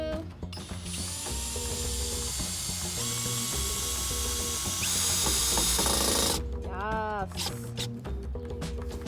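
Cordless drill driving screws into boards of a floating deck built in the woods, with sustained whirring runs and a ratcheting clatter, close and steady, then a higher whining squeal near the end.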